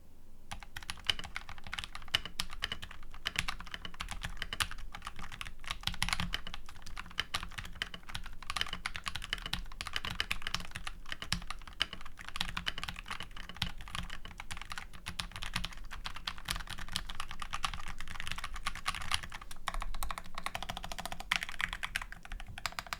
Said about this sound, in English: let's actually take a listen to these Night Breeze switches with the Nuphy Halo75